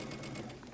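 A sewing machine hums in a steady, continuous whir while stitching pockets onto the sides of a skirt, faint and even with no pauses.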